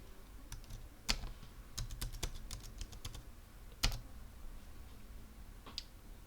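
Fast keystrokes typing a password on a computer keyboard, a run of crisp close clicks with a couple of heavier key strikes, no voices.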